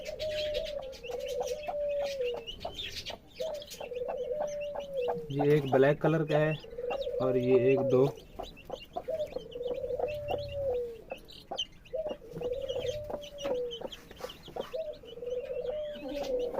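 Newly hatched chicken chicks peep steadily in quick high chirps while a hen clucks in low bursts nearby, and a person talks over them.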